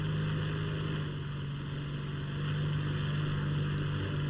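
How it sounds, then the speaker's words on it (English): A Hawker Tempest propeller plane taking off in the War Thunder video game, its engine a constant loud droning hum with steady harmonic tones. "So now taking off, and we are wheels up. The Tempest gets off the ground really well."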